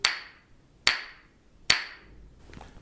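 Three sharp, bright strikes of a small gavel, evenly spaced about a second apart, each ringing briefly before decaying, heard close and alone in a quiet room.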